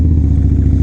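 An old Harley-Davidson FXR motorcycle on a cold mid-January winter ride, its engine rumbling low and steady with a rough, throbbing pulse that stays close and loud, with no talking.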